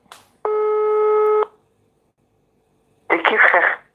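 A telephone tone sounds while a call waits to be answered, one steady electronic beep lasting about a second. A short silence follows, then a brief burst of a voice.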